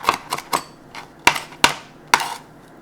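A knife chops Thai chili peppers on a cutting board in sharp, close, irregular clicks, about eight strokes with short pauses between them.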